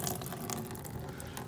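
Steady rushing water drains from an XL MAX unit, a continuous close wash of flow with no breaks and no talking.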